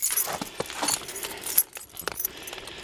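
Keys jangle and clatter as they drop into snow outside a small backyard shed, a few bright metallic rattles and jingles close by with no talking.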